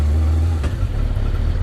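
A Yamaha R1 motorcycle engine fitted in an MX5-based kit car drones loudly and close by with a steady low hum. Its pitch shifts slightly midway, like a brief change in throttle. No one speaks.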